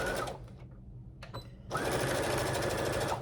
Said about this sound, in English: I am gonna sew along